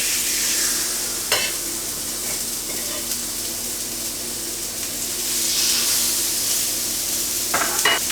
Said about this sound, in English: Okay, griddle's hot, so let's chuck some burgers on it.